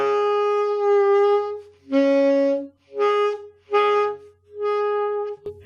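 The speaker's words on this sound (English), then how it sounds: "if you squeeze too hard, you'll probably get a sound something like this" A saxophone attempts its lowest note, low B flat, with too much embouchure pressure, cracking into higher harmonics. It plays five separate loud honks with short gaps between them, and the pitch jumps between overtones.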